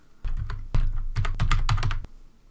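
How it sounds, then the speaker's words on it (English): Fingers type quickly on a computer keyboard, a close run of crisp clicking keystrokes in irregular bursts that end with a firm final tap. "I would just type in here for search plugins something like social"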